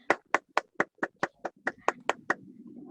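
About a dozen crisp hand claps at a meeting land in an even, quick rhythm, close and distinct, then give way to soft background murmur.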